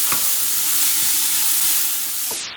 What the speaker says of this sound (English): And now the onion and garlic. So I'm gonna saute this up a little bit